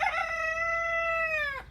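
A single loud, close chicken squawk, a drawn-out harmonic crowing call lasting just under two seconds before cutting off sharply.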